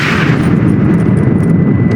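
Gunfire in a Red Dead Redemption cutscene during a gate assault: a loud, dense, continuous roar of battle rumble and blasts, with no clear separate shots and no talking.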